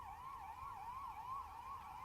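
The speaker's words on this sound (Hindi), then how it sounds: "एम्बुलेंस के भी सायरन की आवाज हम सुन सकते हैं" An ambulance siren wailing at a train fire at Danapur railway station, a steady rising-and-falling electronic tone cycling repeatedly, fairly distant and faint, with no voices.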